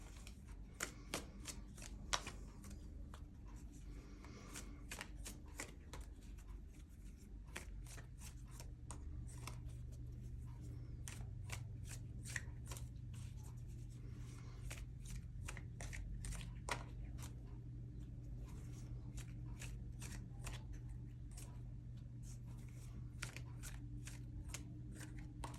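Tarot cards shuffled continuously by hand, a steady stream of quick crisp riffling and slapping card sounds, close and fairly quiet, with no talking.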